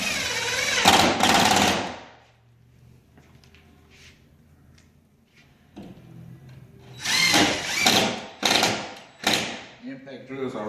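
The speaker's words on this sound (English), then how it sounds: "Impact drills are real good, especially DeWalt." A DeWalt impact drill runs in loud bursts on a DIY bar countertop build, whirring and hammering in short pulses with quieter pauses between, close up; no talk over it.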